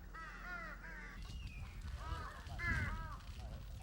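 Several crows on Jeju call back and forth, giving a string of rough, repeated caws in short bursts. The calls overlap against low outdoor rumble, and the loudest cluster comes near the end.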